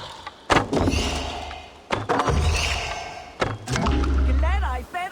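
Arrows strike a target in Assassin's Creed Valhalla, giving several sharp wooden thunks at irregular intervals under game voices and a steady ambient bed.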